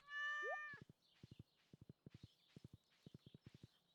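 A cat in the video game Stardew Valley Expanded gives one short, clear meow at the start, followed by a run of rhythmic, clip-clop-like footstep taps in quick pairs.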